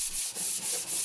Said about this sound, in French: j'attaque joyeusement le ponçage à la cale